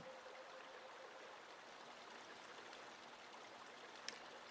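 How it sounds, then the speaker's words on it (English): Steady running water in Paper Mario: The Thousand-Year Door, a constant stream-like trickle holding at an even, moderate level throughout, with a single tiny bright blip near the end and no voices. "Don't listen too closely to the sounds of running water here."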